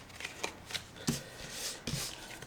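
Tarot cards being shuffled by hand, a few quick riffling bursts in close succession, crisp and near, with no voices.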